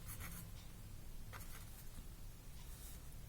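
A pen scratching across paper during a trigonometry lesson, quiet continuous strokes with short scribbly bursts, heard close over a low background hum.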